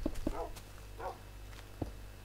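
Wolves in the video game Minecraft give a few short barks and yips, close and clear over a low steady game hum, with a whimper-like tone between them.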